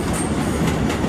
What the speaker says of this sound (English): Alright? You see that train right there?